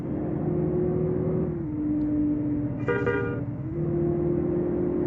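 A heavy truck engine drones steadily on a steep, winding mountain road while another vehicle approaches, and a loud horn blast sounds midway through before the engine hum carries on.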